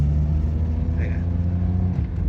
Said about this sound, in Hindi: ये मैं इसको आरपीएम दे रहा हूँ